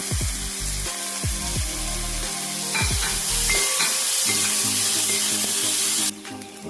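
Chopped shallots fry in oil in a pan, a loud, close sizzle with repeated clanks and scrapes of stirring, then an abrupt drop near the end.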